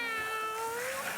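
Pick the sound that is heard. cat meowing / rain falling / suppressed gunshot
cat meowing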